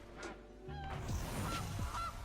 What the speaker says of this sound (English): No, no, not the goose. Not the goose.